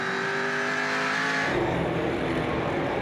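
Onboard a Ford Trans Am race car at Lime Rock Park, the engine screams at high revs then drops sharply on a shift or lift, loud and close with roaring exhaust and rumble.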